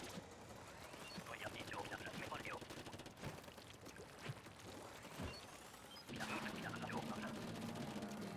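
Regular ink gun firing in Splatoon, a rapid stream of quick shots running throughout over busy game music and effects, with a voice talking at times.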